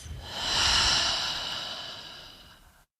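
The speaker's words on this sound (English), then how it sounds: "Let's start with a nice deep inhale through your nose. Exhale out of your mouth." A long, slow breath drawn deeply in through the nose and released out through the mouth, a soft airy rush that swells and then fades gently over about three seconds, close and alone.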